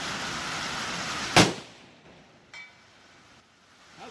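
A 140-grain bullet from a Mossberg Patriot in .450 Bushmaster strikes a steel target with one sharp, loud metallic impact, followed by a faint ringing tail and a couple of softer distant knocks.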